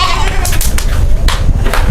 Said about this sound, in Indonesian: Nah, ini kambing Sanen.